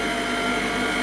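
Electric mixer whirring steadily through cake batter for a troll birthday cake, a close, continuous motor drone with no pauses.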